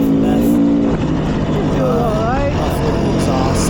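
Stock 2020 Beta 500 RR-S dirt bike engine ripping through open desert, a loud, steady, close roar with rising and falling revs, wind buffeting and a voice talking over it.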